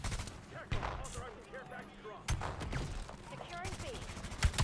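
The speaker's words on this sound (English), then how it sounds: "I just heard a lot of silence bullets" Suppressed gunfire in a video game: a run of sharp, clipped pops spaced unevenly through the clip, mixed with game noises. Someone talks over them briefly.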